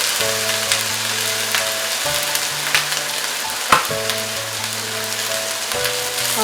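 Eggplant and tomato pickle sizzles steadily in a pan over medium-high heat, with a continuous close frying hiss and occasional scraping stirs, no voices.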